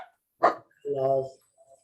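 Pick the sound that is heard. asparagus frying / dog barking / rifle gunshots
dog barking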